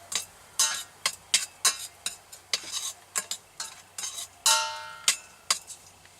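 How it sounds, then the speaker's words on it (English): Bacon browns in a pan on a stove inside a van, with a utensil repeatedly scraping and clinking against the pan over a faint, steady sizzle. "just trying to brown up these bacons. a little bit to get some oil to get everything else going."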